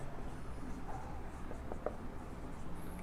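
Marker or chalk writing on a board during a chemistry lesson, steady scratchy strokes with a few sharper taps, close and moderately quiet with no talking.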